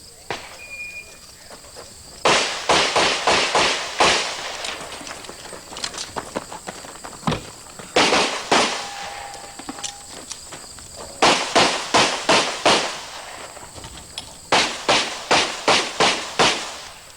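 Pistol gunshots ring out in quick strings during a speed shooting stage, sharp evenly spaced reports grouped in bursts of four to six, separated by short pauses.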